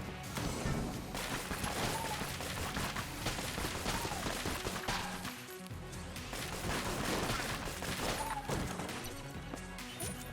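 Rapid bursts of shotgun fire from the Shotgun Full of Hate in the video game Enter the Gungeon crash repeatedly over about ten seconds, dense and loud, layered with game effects and background music.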